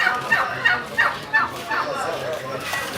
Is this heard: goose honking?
yes